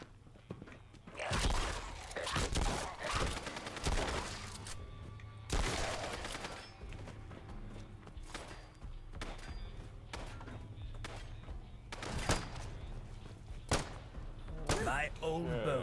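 Gunfire in the video game Fallout London, sharp bursts and thumping shots at irregular intervals, some fairly loud, over a steady game backdrop with talk mixed in.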